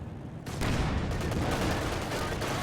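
Gunfire in Company of Heroes 2 from an SU-85 and an MG42 is a dense, continuous roar of battle noise that swells in and stays loud, with no clear separate shots.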